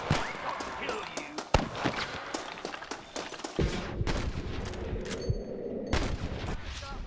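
Gunfire from the Western video game Red Dead Redemption, a rapid series of sharp shots and impacts in bursts over several seconds, mixed with game sounds and voices.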